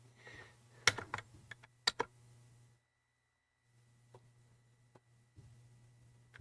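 Keys clatter on a Commodore 64 keyboard, a handful of sharp clicks clustered in the first two seconds, then a pause and a few scattered taps over a low steady hum.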